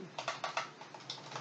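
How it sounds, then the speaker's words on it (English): Fast, crisp clicks on a computer keyboard as numbers are entered, about a dozen close keystrokes in quick irregular bursts, alone. "Let us type 1."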